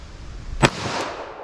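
A single sharp gunshot rings out near the middle, fired at a steel plate 25 yards away, with a faint second impact or ring following about a third of a second later over steady background noise.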